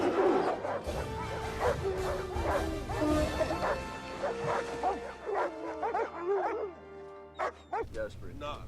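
Sled dogs in Antarctica bark, yip and whimper in close, excited bursts that come and go. A voice talks over much of the barking.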